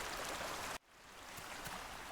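Utah raptor lapping water at a lake's edge in The Isle Evrima, a soft continuous watery trickle and splash that cuts out abruptly partway through, leaving quieter ambient water and faint drips.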